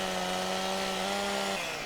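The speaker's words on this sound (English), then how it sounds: "So if you do get the chainsaw out, and there should be a lot of sawdust kind of coming around here" Chainsaw cutting down a tree in Farming Simulator 17, a steady loud droning whine with a sustained engine tone that drops in pitch near the end, up close and without speech.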